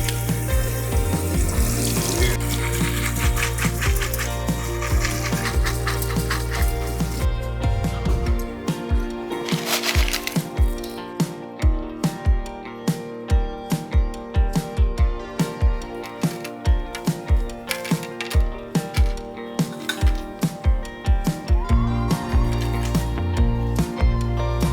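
Rio Shingu sand substrate of mixed grain sizes is rinsed under running water, a steady tap flow giving way to repeated gritty scrapes and splashy churning as the wet grains are stirred, close and loud with no talk.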